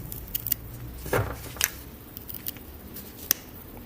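Grafting pliers pressed hard to cut through a plant stem, giving one crisp snip in the middle of a quiet stretch, with a few small metallic clicks and taps before and after it.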